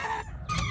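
A pet rooster named as a would-be house chicken gives short throaty clucks and a brief crow-like call, close and fairly loud, with no talking.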